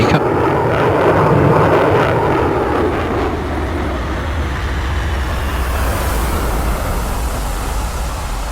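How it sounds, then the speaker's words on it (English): A Mirage 2000 jet flying a display at a DCS World virtual community air show, a loud, continuous roaring jet rumble that starts with a brighter whooshing pass and then settles into a steady, heavy drone. "Another masterful display, this time in the Mirage 2000."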